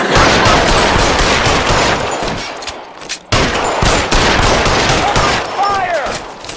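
Loud, sustained automatic gunfire in an L.A. Noire traffic case shootout, a dense fusillade that briefly drops away mid-burst before resuming, with voices faintly under the shooting.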